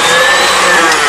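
Electric mixer whipping a chocolate mixture in a kitchen, a steady, loud, continuous whir that holds without pause from start to finish.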